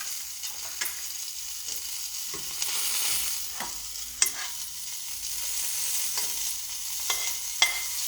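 Cooking food is stirred and mixed in a frying pan, with a steady sizzle and intermittent scrapes and clicks of the utensil. Cinnamon has been added. The sounds are close, at moderate loudness, and no one speaks.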